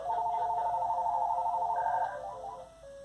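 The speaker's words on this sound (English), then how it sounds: "here come the phone calls" Telephone rings close by, a steady warbling electronic ring repeating for about two seconds before fading, heard in a repair workshop with a restored 1970s Sony Trinitron KV-1942R color TV running nearby.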